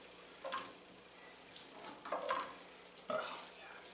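Prosciutto-wrapped shrimp stirred in a frying pan, a soft background sizzle punctuated by three or four scraping stirs and clinks of utensil against pan, fairly quiet.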